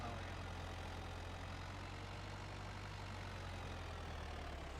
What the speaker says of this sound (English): tells me we need a more powerful tractor before we start plowing